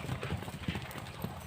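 A Marwari mare's hooves run in quick uneven clip-clop beats, moderately close, over a noisy outdoor background.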